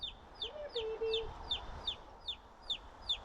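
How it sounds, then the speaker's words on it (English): A baby chick trapped under a barbecue lid chirps rapidly and insistently, a regular series of high, downward-sliding peeps close by, with a lower hen-like cluck briefly underneath. "It's under the barbecue lid. It's chirping away like crazy."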